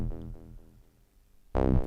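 A Woovebox synthesizer's sequencer sounds the note E: a low buzzy synth tone plays briefly at the start and fades, then after a near-silent gap another loud, harmonically rich note strikes and sustains.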